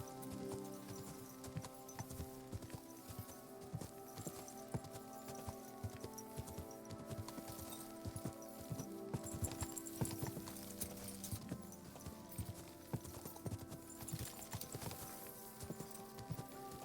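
Horse hooves clip-clopping steadily at a riding pace in Kingdom Come Deliverance 2, a continuous even rhythm of hoofbeats layered over a sustained musical bed, with no talking.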